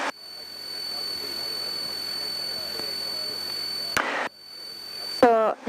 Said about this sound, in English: this plane wants to glide a lot